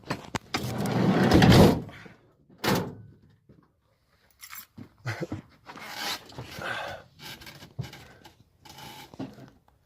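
A van door swings shut with one heavy, close thud, followed by a few quieter knocks and scuffs around the parked vehicle.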